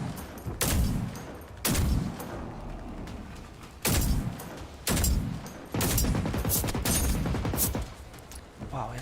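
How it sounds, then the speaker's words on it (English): Heavy gunfire roars in bursts in the FNIX Rising video game, loud sustained volleys separated by brief gaps, with voices talking underneath. "he's shooting really hard"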